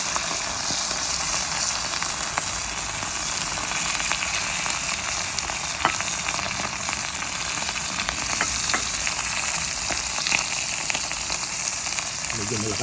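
Daing, dried sap-sap fish, fries in hot oil over a strong flame, a steady dense sizzle and crackle running unbroken throughout with scattered sharp pops.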